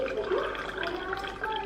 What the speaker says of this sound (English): I'm getting a drink of water